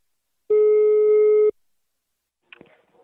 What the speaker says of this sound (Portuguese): Tá chamando, Rejane.